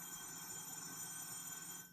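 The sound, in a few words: old landline telephone ringing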